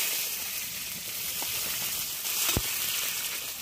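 Crushed garlic and two chopped medium onions go into hot oil with crackling cumin seeds, giving a steady, close hiss and sizzle with a few sharper pops and no talking.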